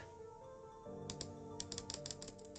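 Rapid clicking of a computer mouse while playing the space game Delta-V: Rings of Saturn, a string of sharp, close clicks in quick bursts over a low steady background hum, with no talk.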